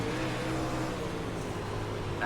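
A UMP modified race car engine on the Knoxville dirt track in iRacing drones steadily at moderate level, sustained and fairly even, with a voice talking faintly underneath.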